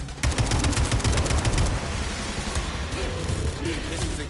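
Gunfire in the video game Atomic Heart: a dense burst of rapid automatic shots at the start, then continuing rattling fire and loud ambient noise.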